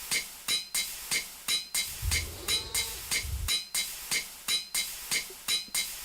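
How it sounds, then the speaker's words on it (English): Forge Hammer machine in GregTech: New Horizons striking in a steady, evenly spaced beat of about a dozen sharp metallic clanks, with a brief low rumble in the middle, moderately loud and alone. "the speed at which the Forge Hammer does this got a nice little beat."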